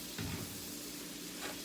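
Butter sizzles and fries steadily in the same pan used for cooking meatballs, a close, continuous crackle with a few louder stirring swells.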